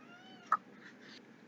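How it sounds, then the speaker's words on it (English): A pet cat gives a short, faint meow followed by a sharp louder sound near the end, brief and close in an otherwise quiet room. "My cat is about to ruin everything I own."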